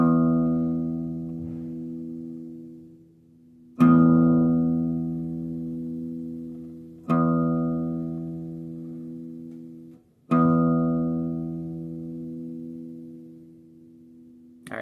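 The open high E string of a guitar is plucked four times for tuning. Each note rings out clearly and fades slowly before the next pluck.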